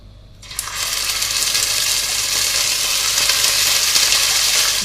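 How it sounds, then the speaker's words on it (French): Beef pieces browning in sunflower oil in a casserole for a daube, a loud steady sizzle that bursts in after a brief quiet start and holds close and dense throughout. "je vais maintenant faire dorer les morceaux de viande sur toutes les faces"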